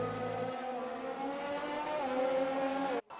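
A race car in the RSF1 racing game drives at speed on the Great Britain circuit, a continuous engine whine that shifts pitch upward and cuts off abruptly near the end.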